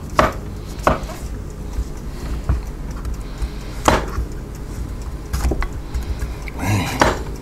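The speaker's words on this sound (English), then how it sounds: "Slice them up and see how it goes." A knife slices mushrooms on a cutting board for a homemade pizza, giving a few sharp, irregular chopping knocks spaced across the stretch, close and distinct against a quiet kitchen background.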